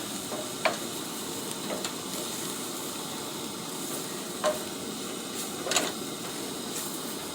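Flour and oil roux cooking in a pan, a steady close sizzle with occasional soft utensil taps and scrapes as it is stirred.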